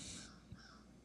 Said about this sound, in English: And the crows out there are saying the same thing.